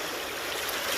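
Steady, close wash of a narrow creek running over big heavy rocks at a West Virginia prospecting spot, an even rushing flow with no voices.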